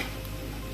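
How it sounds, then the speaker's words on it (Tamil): Onions sautéing in a pot for Tamil Nadu-style chicken biryani give a steady, close, hissing sizzle in one short, unbroken burst. "அது வெங்காயம் வதங்கிட்டு இருக்கு."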